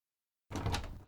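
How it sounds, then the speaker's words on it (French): A door is opened by a police officer at a house, a brief broadband rattle and creak that starts abruptly after a half-second of silence, close and moderately loud. "Ouvrez la porte."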